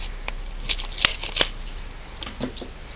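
A roll of double-sided tape being opened, with a few sharp crinkling and peeling snaps close by in a quiet room, spread over a few seconds with no talking.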